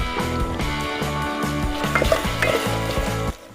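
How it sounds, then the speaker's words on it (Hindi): Ground coriander, chili, fenugreek and salt dropped into hot oil for dal, sizzling steadily with repeated scraping stirs of a utensil against the pan, close and continuous with no talk. "अभी ये सारे मसाले एक साथ डाल देने हैं।"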